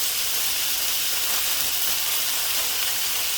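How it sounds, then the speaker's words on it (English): Beef searing in hot oil in a pan, a steady loud broadband sizzle and hiss with no break, no talk over it. "Hopefully the oil is hot enough now. Yeah, you can hear that. In with the beef."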